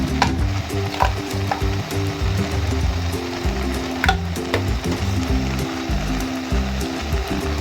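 Mustard greens saag is stirred in a cooking pot, a steady sizzling bubble under repeated scraping and clinking of the spoon against the pot, close and fairly loud throughout.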